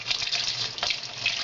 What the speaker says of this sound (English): I get plenty of hot water directly out of the tap down here in the laundry